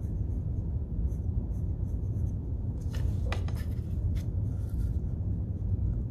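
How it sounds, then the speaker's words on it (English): An eraser rubbing back and forth on drawing paper to remove extra lines, a few short scrubbing strokes clustered midway, faint beneath a steady low background hum. "Both sides, erase those extra lines"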